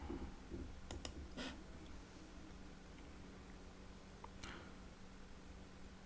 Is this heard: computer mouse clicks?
yes